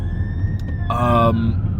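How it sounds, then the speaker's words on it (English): Fire engine sirens passing outside, a wailing tone rising and falling with a brief louder burst, somewhat distant over a low background rumble. "There are some fire engines going past"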